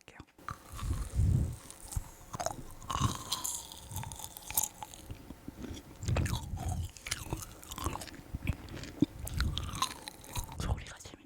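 Frozen kohakuto jelly crunched and chewed close up, slightly thawed, giving a continuous run of crisp crackling bites and wet chewing with low muffled jaw thumps and occasional soft whispers.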